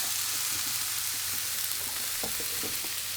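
Oats in boiling water in a pot on the stove give a steady close bubbling hiss with scattered soft pops and stirring clicks, no voices.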